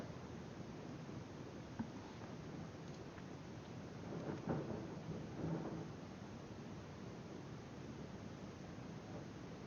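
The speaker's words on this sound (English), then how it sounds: "there's a storm outside" A thunderstorm outside, steady rain-like hiss with a low distant thunder rumble swelling midway, faint and continuous, no talk.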